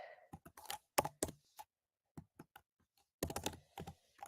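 Fast clicks of typing on a computer keyboard come in bursts with short pauses, close and clear, with a faint sigh near the start.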